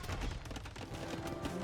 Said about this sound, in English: There's 2 bombard cannons here.